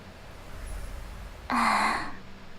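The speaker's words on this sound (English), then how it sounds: "Yo, why you breathing in my ear like that" A game character, March 7th in Honkai: Star Rail, breathes close into the ear: one soft, breathy exhale or gasp that is brief and intimate and stands alone after quiet.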